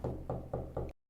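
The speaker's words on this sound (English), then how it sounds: "someone starts knocking insistently on our door" Insistent knocking on a door in a late-night TV horror video game, four evenly spaced heavy knocks close by, then sudden silence.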